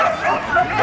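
A playful dog named Cameron lets out a short, wavering, high whine-like yip, close and loud, in Skagway, Alaska.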